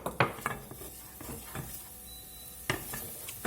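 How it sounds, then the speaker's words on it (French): Small shallots sautéing in butter in a pan for watercress soup, with a soft sizzle under sharp utensil clinks and scraping stirs against the pan at irregular intervals. "On fait ainsi revenir nos petites échalotes dans le beurre"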